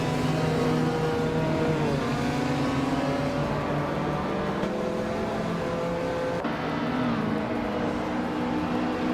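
Several race cars in a video game accelerate off the starting line together, a loud, dense layered engine roar with rising and shifting revving tones held throughout.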